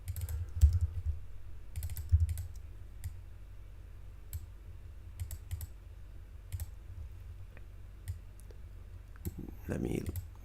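Computer keyboard keys clicking in short scattered bursts, quiet and fairly close, with a low hum underneath and a louder rustle near the end.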